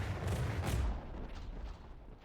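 Heavy ship guns fire in a naval video game, a deep booming salvo with rolling low rumble that swells early and then fades into a sustained, slightly quieter roar.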